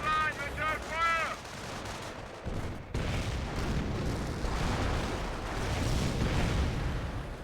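Company of Heroes battle with an artillery barrage and gunfire: dense, rumbling booms and crackling shots roll continuously, after a brief burst of high chirping effects at the start.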